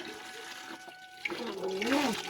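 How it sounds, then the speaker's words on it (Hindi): Water runs and splashes as it is filled in a school garden, a fluctuating gush that swells toward the end, with a voice briefly speaking over it. "भर रहे भाई यहाँ पे पानी"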